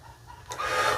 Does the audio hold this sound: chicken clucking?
yes